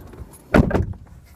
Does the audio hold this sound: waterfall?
no